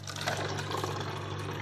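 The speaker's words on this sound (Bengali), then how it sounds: "তো এখানে জল ভরার পর্ব চলছে।" Water runs steadily into a container, a continuous splashing gush with a low steady hum beneath it, close and moderately loud for a couple of seconds.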